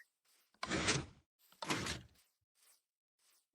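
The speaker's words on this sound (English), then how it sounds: "It's too fast, I got caught in the door." In Minecraft, a sticky piston door closes with two loud whooshing mechanical slides in quick succession, each about half a second long, followed by a few faint clicks in near silence.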